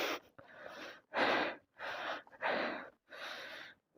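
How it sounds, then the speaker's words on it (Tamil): Heavy, ragged breathing from a hiker trekking through forest toward a hidden waterfall in Tamil Nadu, about five loud, close gasping breaths in and out with short pauses between them. "அதுக்காட்டி பயங்கரமாக மூச்சு வாங்குது டியூட்."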